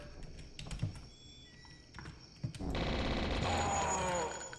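Tommy gun blasting in the retro shooter Blood: after scattered clicks and thuds, a loud, dense burst of rapid automatic fire takes over the last two seconds, close and unbroken.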